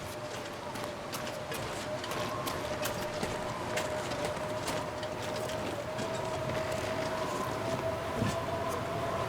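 Running footsteps of a character in the survival game The Long Dark, a steady rapid patter of steps that stays mid-level over a constant wind-like ambient hiss and a faint sustained tone.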